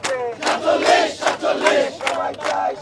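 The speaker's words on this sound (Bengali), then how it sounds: "তারা আসলে স্লোগান দিচ্ছেন" Crowd of protesting students, BCS exam candidates at the PSC area in Agargaon, chanting a slogan in loud rhythmic bursts, many voices shouting together in repeated call-like phrases.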